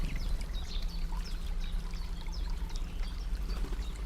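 Water pours and trickles steadily outdoors in the morning while a jay bathes in it, with a continuous splashing stream, faint bird chirps above and no talking.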